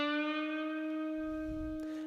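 A guitar note on the third string, bent from the 7th fret up to the 8th-fret pitch, sustains cleanly and decays gradually, with a faint low rumble and a small click near the end.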